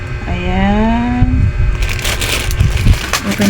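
Crinkling and crushing of a thin plastic package of face masks being opened by hand, close and fairly loud, a steady rustle with sharper crackles toward the end; a voice talks briefly over it.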